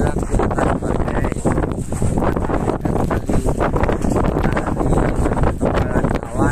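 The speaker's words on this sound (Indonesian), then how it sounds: "Anginnya cukup keras." Strong wind roaring across the summit of Mount Rinjani, a loud continuous buffeting rush that batters the microphone without letup, with muffled speech partly buried beneath it.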